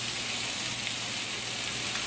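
Onion sizzling in a pan with already cooked vegetables, a steady dense frying hiss throughout, close and fairly loud with no talking.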